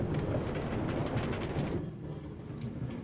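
A Minecraft minecart rolls along a rail line in the game, a soft continuous rumbling clatter that thins out toward the end, quiet and steady with no talking.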